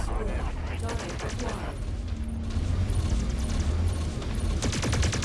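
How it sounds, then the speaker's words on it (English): Mech weapons fire in rapid, repeated bursts during MechWarrior 5: Mercenaries combat, a dense, loud barrage that carries on throughout under a speaking voice. "I'm just shooting in the general direction."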